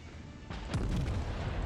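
Ship's naval guns firing in World of Warships, a single loud booming salvo with a deep rumbling tail, close and heavy over steady game background noise.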